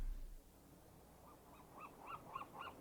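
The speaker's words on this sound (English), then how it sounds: "I hate the seagulls, Giovanni." Seagulls call in a series of short, repeated cries that grow more frequent, faint and distant over a low background murmur.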